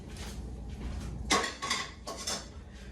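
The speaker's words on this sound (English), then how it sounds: "So, put the pan down." A metal pan set down on a stovetop while cooking cheesesteaks, a few clanking knocks of cookware and utensils in quick succession, close and fairly loud, with no talking.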